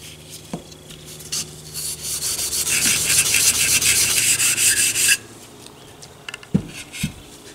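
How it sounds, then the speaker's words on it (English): An abrasive Scotch-Brite pad is rubbed steadily over the metal parts of a Marlin 88 rifle, making a continuous hissing scrape for several seconds. A few light knocks and taps follow once the rubbing stops. "I'm just going to Scotch-Brite everything and rub it down"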